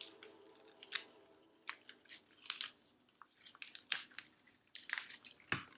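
Scissors snip through taped-together paper, cutting it in half in a string of sharp, close, crisp crunches and clicks, some quick pairs, with quiet gaps between them and no talking.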